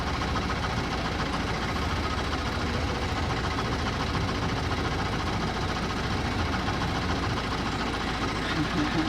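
A narrowboat's engine runs steadily while the boat cruises, a continuous low knocking chug with constant loudness throughout and no pauses or changes in pace.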